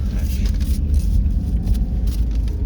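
A car drives along with a constant low engine and road rumble filling the cabin, while people inside talk intermittently over it.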